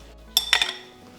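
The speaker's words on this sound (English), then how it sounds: "We'll give this a nice stir, making sure everything is soaking in that liquid and all of it is incorporated." Smashed cucumber salad stirred in a dish, with a few quick clinks and scrapes of a utensil against the bowl, close and fairly loud, bunched in a brief burst before fading to quiet.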